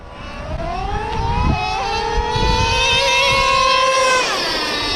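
A Traxxas Slayer PRO and a Traxxas Revo 3.3 nitro RC car race head to head, their small engines whining loudly and sweeping up and down in pitch as they accelerate and pass, with a brief harsh burst partway through.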